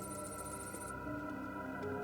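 A telephone rings inside Batman: Arkham City, a steady electronic trill with a high tonal band that cuts out partway, set over a dense game soundscape of music and ambience.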